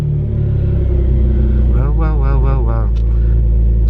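A Renault Clio V6 engine idles steadily just after starting, a loud low rumble running throughout with a brief rising whine partway through, and a voice talking over it.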